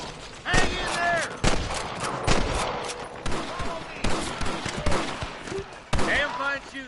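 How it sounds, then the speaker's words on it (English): Gunfire in Red Dead Redemption, a rapid volley of loud, close shots cracking in quick succession, with shouting voices mixed in among the bursts. "Damn fine shooting, boys"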